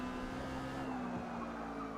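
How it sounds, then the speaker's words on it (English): Exocet sports car in Forza Motorsport sliding through a four-wheel drift at Yas Marina, a steady tyre squeal held over a continuous engine drone for the whole stretch, loud and close without any voices. "these really cool four-wheel drifts that are, it kind of scrubs off speed when you do that"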